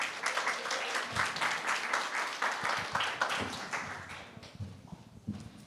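Audience applause fills a conference hall as a global mobility speaker is welcomed onto the stage, steady dense clapping lasting several seconds before tapering off near the end.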